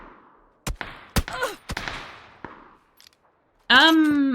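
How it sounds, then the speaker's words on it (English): Gunshots in a shooter video game: sharp separate cracks early on, then a fast loud metallic burst with ringing tones near the end, with quiet gaps between. "Are there two people shooting me from up there?"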